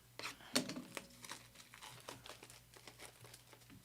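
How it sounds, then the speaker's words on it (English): Crinkling and tearing of a sealed NFL trading card hobby box being ripped open, close and fairly quiet, with a sharp rip early on followed by steady rustling of wrapper and cardboard. "My first hobby box I'm ripping."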